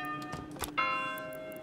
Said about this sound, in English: Let's keep our standard bell sound that we had before.